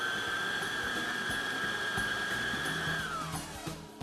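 An electric mixer whirs steadily as it beats eggs into an orange pistachio cake batter, a close, continuous motor whine that dips in pitch near the end.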